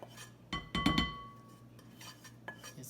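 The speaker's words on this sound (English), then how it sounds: "It's going to be our mixing bowl to put the rest of our things in there." Clinks and knocks of a mixing bowl being handled in a home kitchen while preparing salmon and crab stuffed portobello mushrooms, a cluster of close, bright clatters near the start, then quieter scattered taps.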